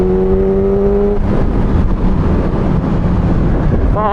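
Yamaha R6 sport motorcycle engine holding sixth gear at speed, a loud steady drone with strong wind rush across the microphone, the engine pitch climbing briefly near the end.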